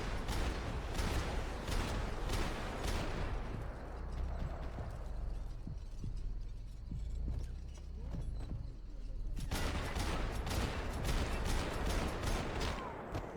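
Video game gunfire from Max Payne 3: rapid, loud bursts of shots open the scene, thin out into a muffled stretch with scattered thuds, then erupt again as dense, crackling volleys toward the end.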